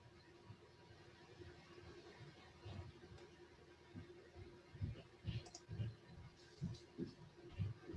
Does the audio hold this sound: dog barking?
no